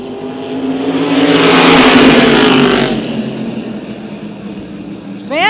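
Race cars roar past on the track at Tioga Motorsports Park, a loud engine snarl swelling as they approach and fading as they pull away, with a rising whine starting near the end.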